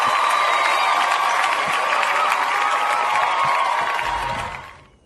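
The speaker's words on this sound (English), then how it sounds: "Let's get some clapping going." An audience claps and cheers steadily at a golf tournament finals, a dense continuous wash of applause and crowd noise that fades out near the end.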